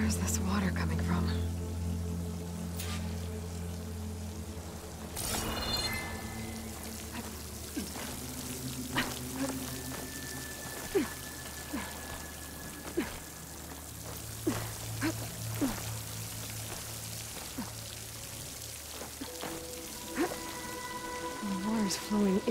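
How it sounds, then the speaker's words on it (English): Steady flow of water in Horizon Forbidden West, a soft continuous rushing wash running into a rock wall, with scattered drips and small splashes and occasional faint tonal game sounds layered over it. "The water's flowing into the wall."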